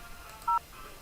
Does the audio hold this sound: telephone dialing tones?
yes